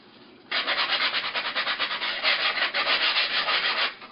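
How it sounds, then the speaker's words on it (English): Sandpaper rubs rhythmically against a balsa wood glider part in quick back-and-forth strokes, a dense close scratching that runs for several seconds without speech. "so I'm going to sand a little bit more"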